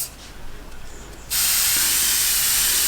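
A spray bottle misting water onto watercolour paper in sustained hissing bursts that start about midway and continue steadily to the end, loud and close, after a quieter stretch of faint room tone.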